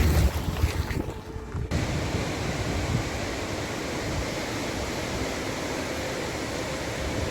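Fast-flowing mountain river in Lahaul rushing in a dense, steady roar, loud and close, with a wind-buffeted rumble at the start before the broad wash settles and holds unbroken.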